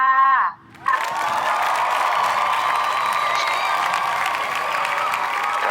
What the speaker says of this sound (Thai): ขอเสียงปรบมือดังๆเลยค่ะ